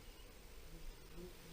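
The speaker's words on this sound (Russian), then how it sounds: "Вон, комаровые мошкары, какой рой." A swarm of mosquitoes and midges hums faintly at a fishing spot, a low, steady, droning buzz with no voices.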